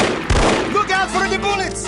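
Gunfire erupts in the shooter game No One Lives Forever, a loud close shot burst blending into ringing game sound and voice-like tones.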